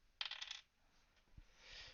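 A die clatters and rattles across a table in a quick burst of hard clicks lasting about half a second, then a few faint thumps follow in a quiet room.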